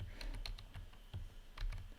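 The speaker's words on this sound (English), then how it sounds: "My typing skills are very impaired because I have a sore finger." Someone taps on a computer keyboard in quick, uneven bursts of light, close clicks with short pauses between clusters, quiet and with no voices.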